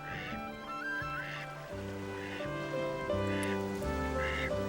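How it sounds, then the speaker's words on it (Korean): Ducks at a forest pond in Jeju's Gotjawal woodland give repeated nasal quacks and honking calls, several birds calling in overlapping bursts against a steady background hum, no speech. "흰뺨 검둥오리의 구행동이 한창이다."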